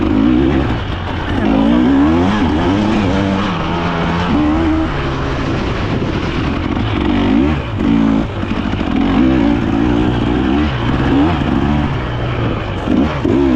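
Dirt bike engine revving hard during a motocross race at Big Diamond, loud and close, with the pitch rising and falling repeatedly as the throttle opens and closes through corners and jumps, no talking.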